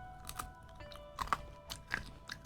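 Crunchy snacks being chewed close to the mic, a handful of crisp, irregular crunches spaced apart over a quiet background.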